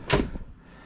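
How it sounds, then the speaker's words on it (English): A heavy, solid door on a coachbuilt motorhome opens with a brief dull clunk and a softer click just after, close by and quiet. "you open the door, see the thickness. That just feels solid"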